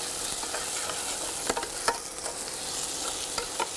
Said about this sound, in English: I'm just going to add the onion in now.